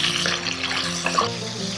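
Tomatoes drop into a pan of sautéing garlic and onion, giving a brief steady sizzle and wet hiss with a few small splashy clicks, close and without talk.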